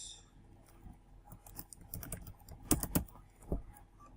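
Keys tapped on a computer keyboard while entering an email address, a quiet patter of irregular clicks building to a few sharper, louder strokes near the end, no talking.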